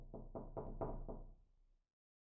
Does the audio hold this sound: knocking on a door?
yes